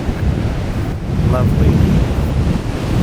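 Pacific Ocean surf and wind on the coast of Olympic National Park in America, a steady broadband wash of waves with wind buffeting the microphone, continuous and fairly loud, with a brief spoken word in the middle.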